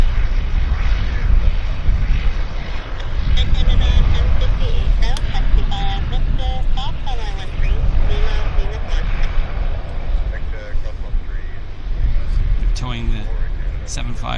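A vintage Dash 8 turboprop at Vancouver Airport, a steady loud droning engine roar that holds throughout, with faint radio chatter and talk mixed in.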